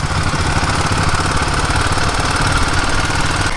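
A motorcycle engine runs steadily while riding along a road in Bhutan, a close, rapid, chugging drone that holds constant and loud throughout with no pauses.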